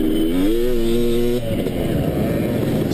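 A dirt bike races through the woods during a hare scramble at Valley MX, its engine buzzing steadily and loud, then dropping to a rougher, broadband rumble as the rider works over the trail.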